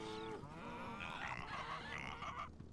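A tamed cow in the Hytale video game gives a drawn-out moo, fairly quiet and close, with a second lowing phrase following after a brief shift in tone; no one speaks over it.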